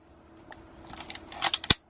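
A mechanical film camera being wound by hand, faint scattered clicks and ratcheting building into a quicker run of crisp clicks, ending in one sharp, loud snap of the shutter or advance lever at close range.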